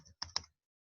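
A few quick clicks of keys on a computer keyboard while entering an IF formula in Excel, close and crisp, then silence.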